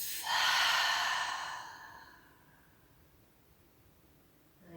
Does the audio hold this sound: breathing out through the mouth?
yes